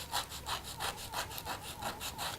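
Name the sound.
sanding a wooden pencil tip on rough sandpaper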